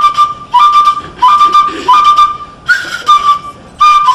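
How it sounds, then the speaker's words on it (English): A traditional Igbo flute plays at a Chinua Achebe remembrance gathering in Canada, sounding repeated bright high piping phrases with short gaps between them, loud and close, with no voices. "the melodious sound of the flutist took his kingsmen down memory lane"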